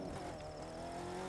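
A Land Rover Defender Works V8 70th Edition accelerating in The Crew 2 video game, a steady loud engine drone with rising harmonic tones, continuous and close with no talk.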